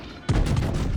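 Naval gun salvo from battleships in World of Warships, a sudden loud booming blast after a quiet moment, followed by a rumbling roll of shell fire that carries on to the end.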